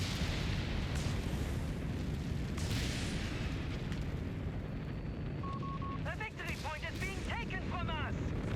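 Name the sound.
Stuka creeping barrage explosions in video game Company of Heroes 3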